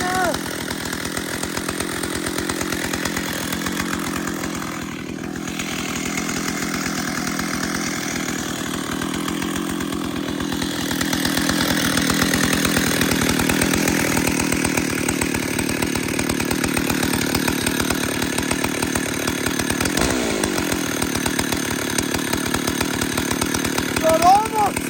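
A chainsaw runs steadily and loud for the whole stretch, a continuous buzzing drone with slight shifts in pitch, while someone talks over it now and then.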